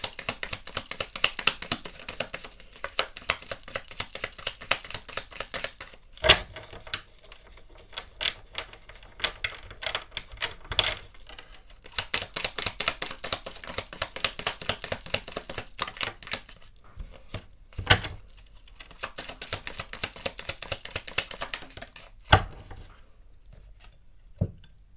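A tarot card deck being shuffled, long stretches of fast riffling card patter broken by a few sharp snaps and taps, close and steady with no talk.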